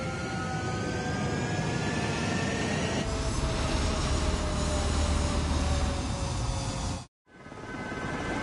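Jet fighter aircraft roaring on a runway during takeoff in the video game Ace Combat 7, a loud continuous engine rumble and whine that swells partway through and cuts out briefly near the end.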